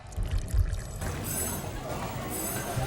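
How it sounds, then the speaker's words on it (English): Tea streams from a long-spouted teapot in a steady pour, a continuous watery splash and trickle heard up close, with low thumps at the start and a voice speaking faintly over it. "Pouring tea from the long pot has evolved into a beautiful art form of its own"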